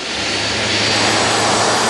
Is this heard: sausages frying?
no